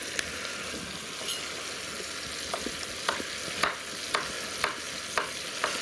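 A saddle of young rabbit browns in a pan with shallot and carrot, giving a steady close sizzle broken by regular sharp taps and scrapes of a utensil stirring.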